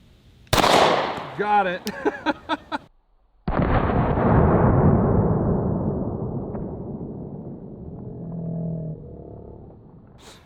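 A .500 Magnum revolver fired upside down outdoors: a voice and some small clicks, then one booming shot that rolls away in a long echoing decay, followed by faint talking.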